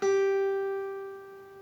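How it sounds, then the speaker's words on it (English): A single guitar note on the 8th fret of the B string, picked and fretted with the pinky, rings clear and close with a sharp attack, then sustains and slowly decays, played alone. "we are going to use our pinky finger and play the 8th fret of the B string"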